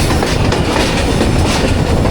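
The 13 Up Awam Express, running from Rawalpindi to Attock, descends a down gradient after leaving Golra Sharif junction, with a loud, close, continuous rumble and rapid clickety-clack of wheels heard from on board.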